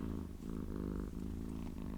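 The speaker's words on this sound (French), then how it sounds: "peut-être que vous allez entendre les ronronnements de mon chat" A house cat purrs right beside the microphone, a low, continuous rumbling with a steady pulsing rhythm, soft and close, with no voices.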